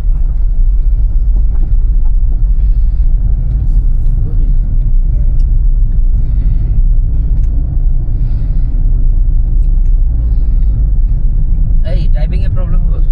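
A car travelling on a hilly road from Kandy to Nuwara Eliya in Sri Lanka, passing tea estates, with a steady loud engine and road rumble throughout and people talking over it.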